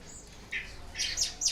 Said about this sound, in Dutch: dit zijn de vogeltjes die bij u in de tuin leven